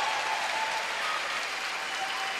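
An arena crowd at a women's world curling championship match between the Czech Republic and Japan applauds a great shot, steady dense clapping, fairly loud and even throughout.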